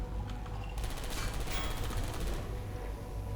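Turret in a video game firing a rapid mechanical stream of shots, a quick rattling burst of moderate loudness over a low droning backdrop.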